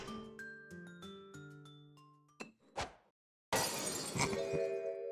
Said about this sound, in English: Pray forgive the discourtesy of flinging a freshly uncorked bottle into the public gallery.